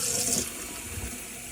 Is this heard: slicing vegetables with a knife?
no